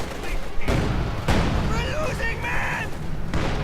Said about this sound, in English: Field gun blasting away this MG.